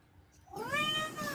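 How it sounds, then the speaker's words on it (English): A black cat lets out a single close, rising-then-falling meow that starts after a brief quiet moment and is heard clearly on its own. "Oh, is that your kitty cat?"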